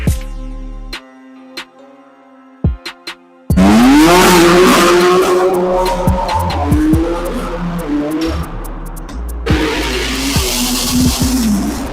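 A Stage 3 BMW M4 with over 600 bhp fires up and revs hard, the loud close engine climbing through gears with sharp gearshift pops and tyre noise, preceded by brief music.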